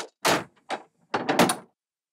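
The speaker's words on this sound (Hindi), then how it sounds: "इरसा दरवाजा खोलो" House door being opened, heard as a few short separate knocks and clunks with brief pauses between them, close by and fairly loud, with no talking.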